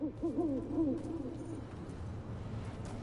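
An owl hoots in the video game Dragon Age: The Veilguard, a few soft wavering calls near the start that fade under steady ambient background.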